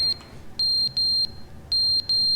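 Fire alarm in The Stanley Parable: a shrill electronic beeping tone repeating in short bursts of about a quarter second, with brief gaps between pairs, loud and steady over a faint low background hum.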